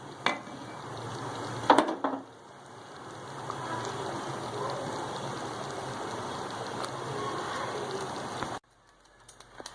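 A metal pan is handled on a stove while making chana dal gosht: a couple of sharp clanks early on, then a steady hissing sizzle that cuts off abruptly near the end.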